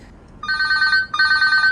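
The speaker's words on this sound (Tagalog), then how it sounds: "Ado umawawag iti cellphone mo." A cellphone rings indoors with two loud, bright electronic ring bursts in quick succession, each warbling with a steady repeating trill, following a brief quiet lead-in.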